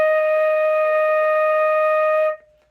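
One long, steady E flat on a flute, held evenly for over two seconds at close range with a pure, bright tone before releasing into a brief fading tail.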